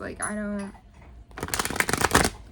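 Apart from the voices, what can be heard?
tarot card deck being shuffled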